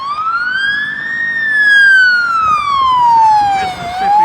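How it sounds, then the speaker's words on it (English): Police car and ambulance sirens approaching, a loud wailing tone sweeping slowly up and down over faint road noise. "You see that police car coming? You see that ambulance coming?"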